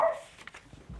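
A dog at a home with Chihuahuas and a Staffy-type pit bull gives a couple of short, faint barks and yips, brief and scattered in a quiet room.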